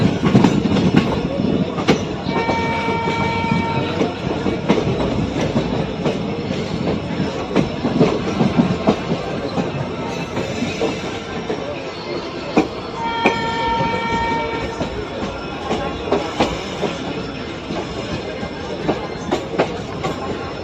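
Uttranchal Sampark Kranti Express rolling along the rails on its run from Kathgodam to Delhi, a continuous loud rumble with rhythmic clickety-clack of wheels over rail joints and brief squealing tones.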